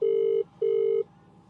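Two long, steady electronic telephone ring tones, close and loud, separated by a short gap, followed by quiet, with no talking.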